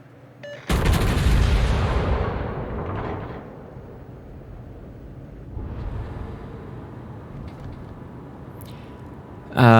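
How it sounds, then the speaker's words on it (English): Battleship Missouri's main guns fire in the naval game World of Warships: a loud, close broadside boom that opens the passage and rumbles off, with a second, softer salvo partway through and another sharp blast at the end. "there's the Missouri shots"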